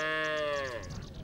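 A single sheep or goat bleat from the herds of Tuareg nomads grazing in a Sahel forest, one wavering cry about a second long, moderately near, followed by faint background noise.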